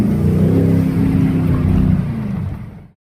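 A 2019 Mercedes-AMG GT C roadster with its 4.0-litre biturbo engine rumbles close by with a deep, loud, steady drone that fades out and stops after a few seconds.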